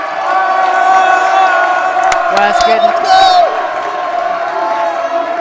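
A basketball crowd at a high school boys sub-state game roars and cheers loudly and continuously, with whoops and shouts in a large gym, under a commentator's voice.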